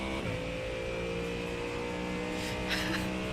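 A virtual race car in a sim racing game drones with steady engine harmonics that hold close and loud, slipping into a faint squeal near the end, with a voice murmuring underneath.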